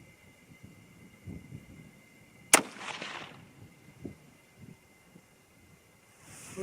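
A single distant rifle shot from a 6.5 Creedmoor firing a mild handload, one sharp crack followed by a brief rumbling tail, with faint ambient noise around it.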